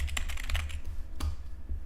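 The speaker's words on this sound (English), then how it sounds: "I'll type it." Rapid keyboard typing on a computer, several quick clicking keystrokes in an irregular burst, close and fairly loud, alone with no voices.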